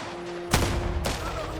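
A howitzer fires in the game Last Train Home, two heavy booming blasts about half a second apart, loud and close over a low background hum.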